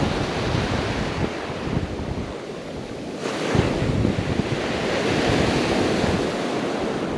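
Surf breaking on an ocean beach during surf fishing, a steady loud wash of waves with strong wind buffeting the microphone throughout, no voices.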